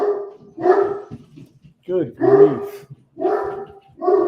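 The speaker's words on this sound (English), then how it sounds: "Big old dog. Going at it." A big dog named Apollo barks in loud, deep bursts, about four barks spaced roughly a second apart, close by, while a person speaks briefly between them.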